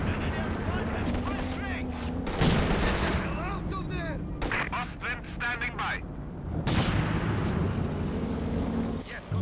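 Howitzer artillery barrage in the video game Company of Heroes 2, with repeated heavy booming blasts and crackling gunfire through dense battle noise, heard under continuous commentary.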